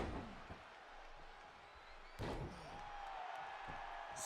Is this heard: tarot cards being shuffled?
no